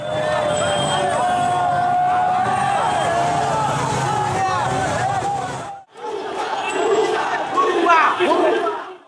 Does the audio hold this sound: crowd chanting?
yes